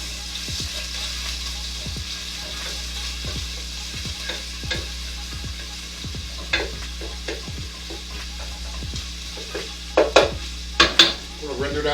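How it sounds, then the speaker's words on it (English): Bacon rendering down in a pan, a steady close sizzle and fry with repeated stirring clicks and scrapes, a few sharper utensil knocks near the end. "I'm going to render that bacon down a little bit."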